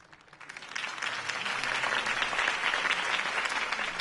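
Crowd applause after a campaign speech in the Telltale Batman video game, swelling quickly into steady, dense clapping that continues throughout.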